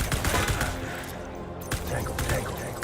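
Rapid bursts of gunfire from the very-hard-difficulty video game Death Stranding, dense and loud across most of the moment, with a brief lull in the middle, mixed with game sound and a voice talking over it.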